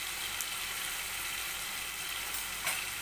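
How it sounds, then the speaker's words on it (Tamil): Tomatoes sauté in a hot pan for a goat intestine gravy, giving a steady, even sizzle and crackle that runs unbroken and fairly close. "நல்லா தக்காளி பழம் நல்லா மசிகிற வரைக்கும் நல்லா வதக்கிக்கிட்டே இருக்கணும்"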